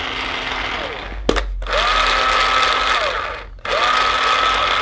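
A GI Sportz LVL paintball hopper motor whirs loudly in its third mode, a high buzzing drone that cuts out twice briefly before restarting.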